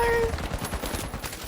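Rapid automatic gunfire in the video game The Finals, a loud continuous burst of closely spaced shots over a short stretch.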